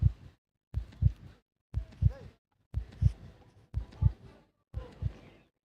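A heartbeat sound effect plays during a cricket match review. It is a loud, close lub-dub pulse that repeats about six times at a steady rhythm, with short silences between beats.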